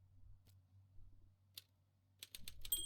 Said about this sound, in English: Oh, a typewriter? Try writing with it.